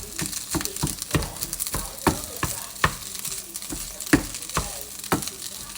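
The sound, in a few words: food frying in a little oil in a pan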